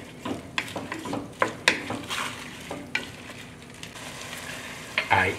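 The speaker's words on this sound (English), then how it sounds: "We're gonna soften the onion and the shallot." Onion and shallot soften in butter in a pan with a pinch of salt, a continuous close sizzle broken by repeated clattering stirs and scrapes against the pan.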